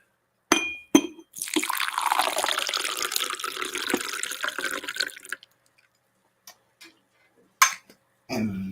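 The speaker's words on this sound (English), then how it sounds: "I'm going to pour my drink into it" Drink poured from a fancy Goodwill glass decanter into a glass, a steady liquid splash lasting several seconds up close, followed by a few light glass clinks.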